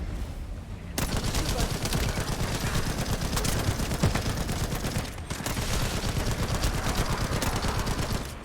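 Rapid, continuous automatic gunfire from a video game, loud and dense in sustained bursts with a brief gap near the start and another mid-way, no talking over it.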